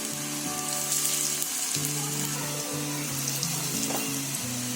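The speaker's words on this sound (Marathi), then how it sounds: "कमी तेलामध्ये आहे ना असे सोडायचे आणि चांगले भाजून घ्यायचे" Gram flour snack patties shallow frying in a little oil in a pan, giving a continuous close sizzle and crackle with no talk over it.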